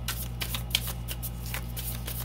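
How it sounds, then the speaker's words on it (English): Tarot cards being laid down on a table during a pick-a-card reading, heard as soft, close, rapid shuffling and sliding taps under a steady low hum. "I'll put some cards down first."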